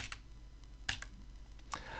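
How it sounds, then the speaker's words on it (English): Cursor keys on a computer keyboard give a few quiet, sharp clicks spaced irregularly over a soft background hiss. "nudge down using the cursor keys 2 pixels"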